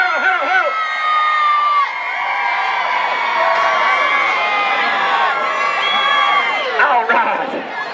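Large rodeo crowd cheering, whooping and screaming loudly, sustained high-pitched shouts from many voices close and far, swelling and fading over several seconds.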